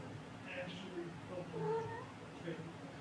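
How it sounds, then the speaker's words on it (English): A pet cat meows a few times amid background noise, with a person talking quietly in the room. "Hello again, kitty."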